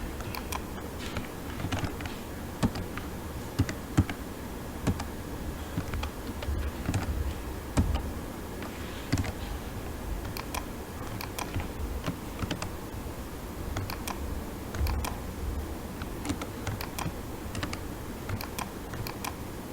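Keys clatter on a computer keyboard during setup of a DNS server's IP, a continuous stream of light, irregular taps with occasional louder strokes over a faint hum.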